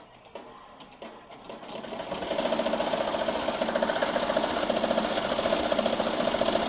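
An embroidery machine stitches a design, starting with a few sharp clicks, then settling into a loud, steady, fast mechanical chatter with a regular rhythmic pulse that holds to the end.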